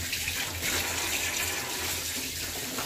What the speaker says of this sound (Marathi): आता आपण आहे ना धुवून घ्यायचे।